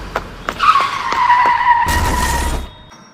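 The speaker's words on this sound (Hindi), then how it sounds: "गुल्ली एक गाड़ी से टकरा जाता है और वहीं गिरकर बेहोश हो जाता है" A cartoon car's tires skid with a high, wavering screech just before it strikes a character, then a short, loud noisy crash cuts in and quickly fades away.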